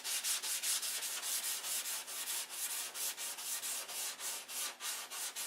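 Rhythmic back-and-forth sanding of DC 540 primer on a model aircraft wing, quick regular strokes with a dry hiss, close and steady with no talking.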